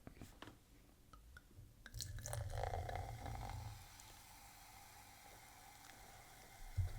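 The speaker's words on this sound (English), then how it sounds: "Just an ASMR pour." A bubbly drink is poured, a soft fizzing hiss that swells for a couple of seconds and then settles into a faint crackle of bubbles, with no voices.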